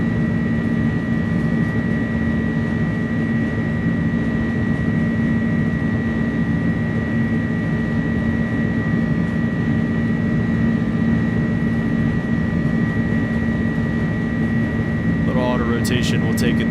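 Inibuilds A300 jet engines roaring at takeoff thrust in a flight simulator, a steady loud broadband rumble with a constant tonal whine, with someone talking over it and a brief chirping near the end.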